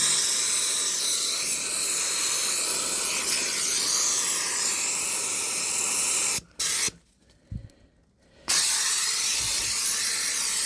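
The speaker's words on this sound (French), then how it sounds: "le truc quand vous balancez la vapeur comme ça" Steam jet blasting into a Tapinoma magnum ant nest outdoors, a loud steady broadband hiss that runs continuously, cuts out briefly twice near the end, then resumes.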